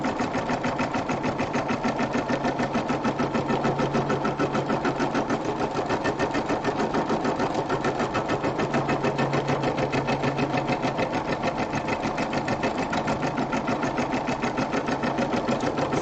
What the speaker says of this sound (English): So you can do this project with a 4x4 embroidery machine